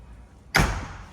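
The door of a 2014 Tiffin Allegro Bus 45 LP motorhome swings shut with a single firm thud and latch slam, close and loud, after a brief quiet moment.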